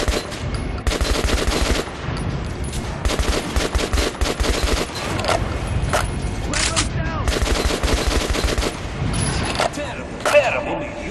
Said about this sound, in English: Shoot the dummy in the head.